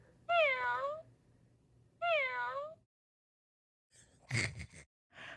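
A cat's meows come from a toy puzzle, two clear drawn-out calls spaced apart, then a breathy, gasp-like burst near the end, with no talk.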